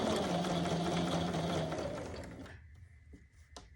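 A sewing machine stitching a half apron runs in a loud, fast, steady whirr, then winds down and stops, followed by a faint hum and a few small mechanical clicks.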